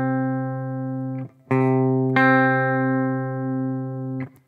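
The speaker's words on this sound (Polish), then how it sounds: "To jest ten sam dźwięk. Dźwięk C." Repeated sustained C notes on an electric stringed instrument in an octave shape, each plucked tone ringing with a slight gritty edge and brief scratchy gaps between notes, close and without talk.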